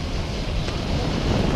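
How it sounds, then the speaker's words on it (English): Rocket engines igniting on the launch pad at liftoff for the All Up Test, a broad continuous roar at steady loudness, heard alone. "Ignition sequence starts. 5, 4. We have ignition."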